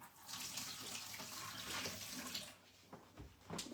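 Rinsing water runs off freshly washed apples into a kitchen sink in a steady, close splashing stream, then breaks into a few scattered drips and splatters as it tapers off, with no talking.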